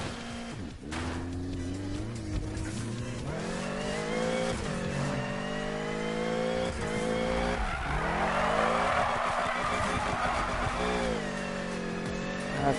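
Car tyres screech in a long sustained squeal while drifting in the Need For Speed video game, with the engine revving loudly and rising and falling in pitch beneath it, no talk.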